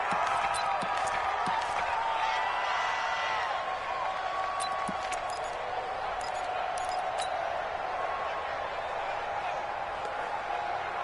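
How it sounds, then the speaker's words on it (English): Steady stadium crowd roar inside a domed arena in a PS4 American football video game, a continuous broad wash of noise with faint scattered claps, under commentary. "The crowd here in the dome making things difficult."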